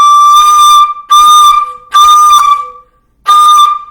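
A flute sounds a sustained D in four blown tones separated by short gaps, pushed with fast air so the pitch creeps sharp; breathy and bright, close and loud, with no talking.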